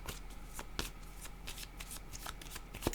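Tarot cards being shuffled by hand in a steady run of papery riffles and soft slaps, close and continuous, with light taps standing out near the start and near the end.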